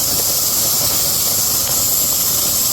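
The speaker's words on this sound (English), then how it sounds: "It's steaming, or it's venting." Steam vents from a canner in a steady, loud, even hiss with no breaks or talking.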